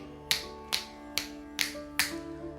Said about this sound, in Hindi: अब चारों दिशाओं में चुटकी बजाकर चक्र को जागृत करें